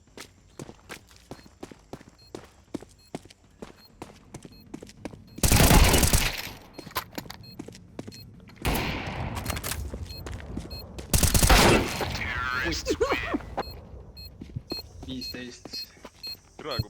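Gunfire in a first-person shooter game, with sharp single shots and three loud bursts of rapid fire, amid footsteps and frequent voice chat.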